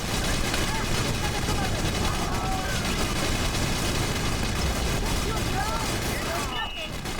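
Troops firing guns in the video game Battalion Wars: loud, constant massed gunfire and rattling bursts with booms mixed in, and faint voices under the din.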